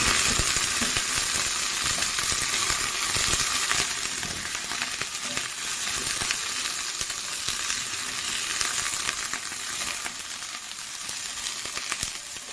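Garlic fries in olive oil in a pan, giving a steady loud sizzle with crackling pops and occasional stirring scrapes, no speech.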